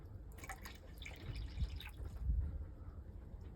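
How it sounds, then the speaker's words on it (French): Water poured from a small glass into a homemade corn and hemp-seed boilie bait mixture gives a short, faint splash with soft dripping trickles. No one speaks. "je prends mon petit verre de verre, je vais directement mettre de l'eau"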